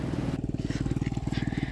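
A motorcycle rides along a hiking trail, its engine close and loud with a rapid, steady pulsing chug that is punctuated by rattling and crunching from the rough ground.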